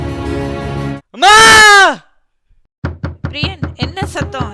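Sharp knocks rapping on a door in a Tamil drama, a run of about seven loud, close raps after a groan and a sustained cry.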